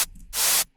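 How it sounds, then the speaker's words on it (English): Two bursts of bright synthesized white noise from an Operator synth in a bass house production, a short hiss followed by a longer sustained wash of noise, loud and alone. "First we have this white noise coming from operator."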